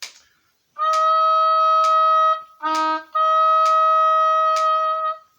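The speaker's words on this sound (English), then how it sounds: "Okay, so that's our E flat." An oboe plays one sustained, reedy E flat, repeated several times with short breaks, clear and close with no talking.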